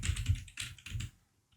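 Computer keyboard keys clack in a quick burst of about half a dozen taps, close and crisp, then fall silent; no one speaks.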